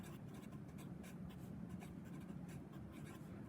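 Pen or pencil writing out a precalculus problem, a soft scratchy scribbling in short quick strokes, close and quiet with no talking.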